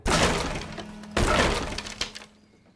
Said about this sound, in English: She picked up Miguel's guitar and smashed it.